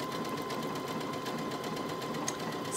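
Brother Innov-is A150 sewing machine stitching out a decorative pattern, a steady, continuous mechanical whir with fast repetitive needle clatter held close and even throughout, no voices.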